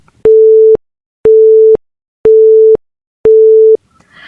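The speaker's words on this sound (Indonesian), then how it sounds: "Lalu sambungan telepon mati begitu saja, terputus dengan Abiasa sebagai pihak yang menghentikan panggilan ini" Busy tone on a telephone line after the other party hangs up: four even beeps of steady pitch, each about half a second with equal gaps, loud and clear, followed by a faint rustle.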